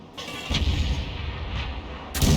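The gun of an M53/M55 self-propelled artillery vehicle fires a round in a video game. A heavy, booming blast rolls into a long rumbling decay, with a second sharp report at the end.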